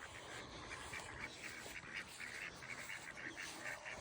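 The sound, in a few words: ducks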